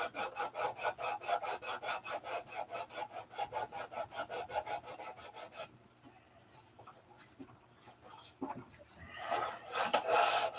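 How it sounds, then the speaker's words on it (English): Sandpaper rubs across a wood surface to remove a pen line, with steady rhythmic back-and-forth rasping strokes that are close and fairly loud, then a pause with faint handling noises before the strokes resume briefly. "we're going to sand the pen line off"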